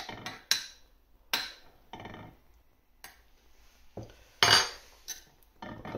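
A utensil pushing magnolia flowers down into a jar of vinegar, several separate sharp clinks and knocks against glass with brief scraping rustles between them, close and otherwise quiet.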